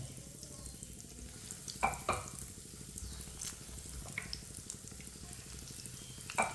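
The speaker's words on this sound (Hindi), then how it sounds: "ऑयल हमारा गर्म हो चुका है। पैन में एक एक इस तरीके से आपने आलू ऐड कर देना है।" Potato pieces frying in hot oil in a pan, a steady, even crackling sizzle with a few brief clinks and taps, close and moderately quiet, with no voices.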